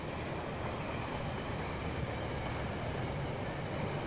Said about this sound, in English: So many different lines, so many different trains all moving about.